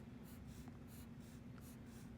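A pencil draws a zigzag pattern on paper to fill in an area, giving rhythmic scratchy back-and-forth strokes, about five quick close sweeps at an even pace, soft and with no voices.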